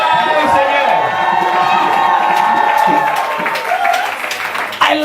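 A church congregation shouts and cheers for joy to the Lord in loud, sustained crowd noise. A speaker's voice carries over the crowd throughout.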